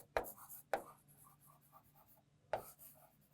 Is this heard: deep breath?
no